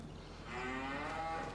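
A cow moos in Farming Simulator 25 on a 120-cow farm, a single long, low, faint call rising and holding, with no talk over it.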